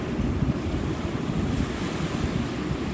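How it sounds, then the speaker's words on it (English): Ocean surf on a cold beach in March rolls in as a steady, loud wash of breaking waves, with gusty wind buffeting the microphone throughout and no voices. "The ocean in March."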